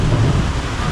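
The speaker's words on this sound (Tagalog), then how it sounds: "kulog yun ngayon mga idol, kulog" Thunder rolls as a loud, deep, continuous rumble filling the whole moment, with a rainy, windy storm wash around it.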